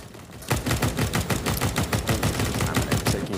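Sustained automatic gunfire in a Counter-Strike match on Dust2, a dense rapid stream of loud close shots rattling continuously for several seconds after a brief quieter lead-in, with no talk over it.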